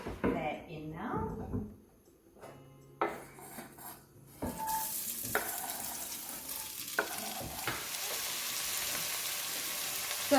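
Onions and celery sizzle and fry in a pot for a beef ragout, with stirring and pan clatter building into steady sizzling from midway on, mixed with a voice talking early.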